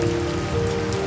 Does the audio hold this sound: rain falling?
yes